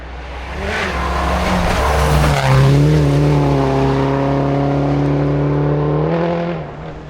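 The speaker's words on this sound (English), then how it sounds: "On a narrow, off-camber left-hander coated in ice, they slid off the road" A Mitsubishi Lancer rally car slides off a narrow, icy, off-camber left-hand bend on a forest rally stage, its engine loud and revving with a long sustained tone and tire noise across several seconds, no voices.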